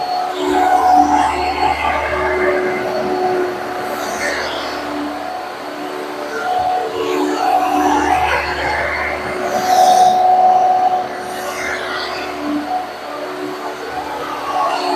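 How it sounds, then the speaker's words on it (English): A blender whirs in bursts while blending food with garlic pieces, loud motor surges rising and falling several times across the span, with faint talk between. "I'm gonna go ahead and blend this real quick."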